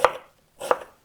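Two quick knife strokes cut thin slices of onion on a cutting board, each crisp chop landing close and clear, with a short silence between them.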